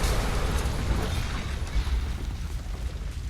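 A building blows up in Hitman Absolution, a loud, sustained explosive roar with rolling rumble and debris noise filling the whole stretch without letup.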